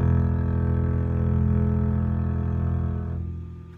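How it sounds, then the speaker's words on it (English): One long bowed note on the lowest E string of a double bass drones steadily up close, then fades toward the end, with no voices. "Watch this string right here while I bow it."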